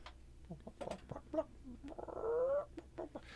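A chicken clucks faintly in a radio studio, a few soft, scattered clucks and a drawn squawk amid low background hum and light room noise.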